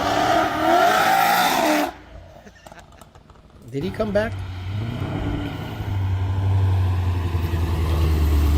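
Ford Mustang being hooned with spark-cut traction control, a loud revving engine with choppy, stuttering cuts, coming up close after a quieter stretch and holding a rough growl, while people talk over it.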